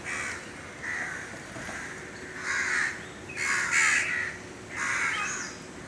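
A crow caws repeatedly in a series of harsh calls, about six or seven spaced across the stretch and growing louder toward the end, over a low background hum.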